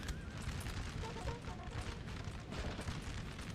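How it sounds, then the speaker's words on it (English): Repeated booming fire from a 12-pounder cannon in Napoleon Total War, part of a dense, continuous battle din of cannon and musket volleys with a faint voice underneath. "That 12-pounder still firing here."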